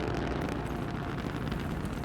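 Loud, sustained roaring rumble of a rocket launch explosion in the Der Eisendrache map of Black Ops III zombies, a dense, unbroken low roar filling the whole stretch without any voices.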